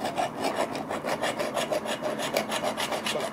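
Rhythmic rasping strokes of a blade sawing a slot into a hard coconut shell, close and steady, about a dozen back-and-forth cuts with no talk.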